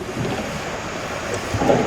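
A storm at sea in Sea of Thieves rolls in as a low, rumbling wash of wind, waves and distant thunder, steady and fairly loud, with a brief rise of rushing noise near the end.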